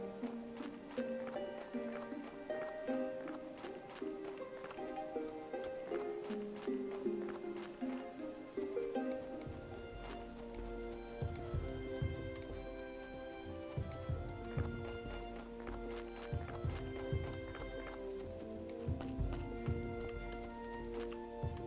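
A donkey's hooves clip-clop in the Graveyard Keeper game. A steady rhythmic stream of hoof taps sits under looping game music and grows more prominent in the second half, with no voices.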